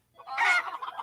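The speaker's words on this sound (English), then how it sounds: "maybe free-range chickens in the office wasn't a great idea" Office free-range chickens cluck in a brief, close burst used as a sound effect in a radio ad, a single loud squawking call that trails into softer clucks.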